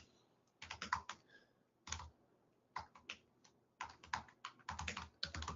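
Someone types a name on a computer keyboard, irregular bursts of crisp key clicks separated by short pauses, close and fairly quiet, with no talking.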